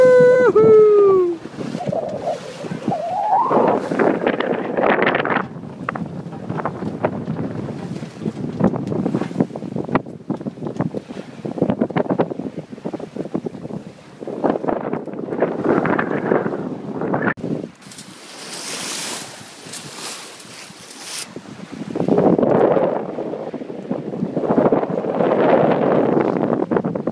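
Wind gust hitting a small sailboat in Saint-Paul bay, Réunion: loud buffeting microphone wind noise roars and surges with spray and rigging sounds, sometimes close and harsh, while people shout excitedly over it.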